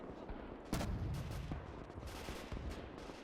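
Massed rifle and machine-gun fire from soldiers in the World War II strategy game Gates of Hell, a dense crackling fusillade with a sharp burst near the start and more volleys later, steady and moderately loud.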